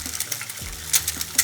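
Eggs frying in a pan for a British fry-up give a steady close sizzle, broken by a few sharp metallic clinks and scrapes.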